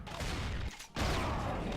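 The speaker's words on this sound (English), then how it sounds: "The assault rifle with the iron sights make short work of that" Rapid bursts of assault rifle gunfire in the Doom video game, loud and dense, stopping for a brief gap before firing again, with no talking.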